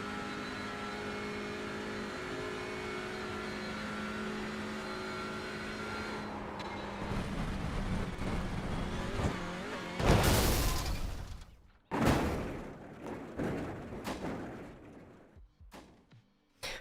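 A touring car engine in the iRacing sim at Snetterton drones steadily, then surges and revs harshly with sharp bursts and abrupt cut-offs, sounding rough and faltering toward the end.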